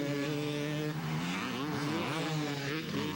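Several 250 Pro class motocross bikes racing at a county fair motocross event, a dense overlapping engine whine with shifting pitches as riders rev and accelerate, loud and continuous.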